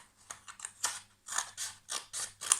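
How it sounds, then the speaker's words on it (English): Scissors snip through a strip of card in a run of short, crisp cuts, about eight quick bursts with brief pauses, close and clear with no talking. "Then take one of those, cut a strip 2 centimeters wide."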